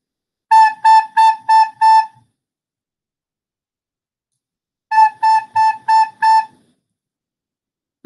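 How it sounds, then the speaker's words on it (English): Two phrases of five short, detached tones each on a wind instrument playing the note A, clear and close, separated by a few seconds of silence. "So A sounds like this."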